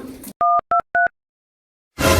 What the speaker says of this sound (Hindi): लगाओ फोन तुरंत ही